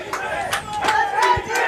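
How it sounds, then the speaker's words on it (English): A high school football crowd in the stands cheers and roars as the punt team lines up, with loud rising shouts and whoops in repeated surges, full and close. "The crowd is getting fired up here."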